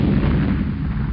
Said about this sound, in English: massive explosion. So I just wanted to wake you up,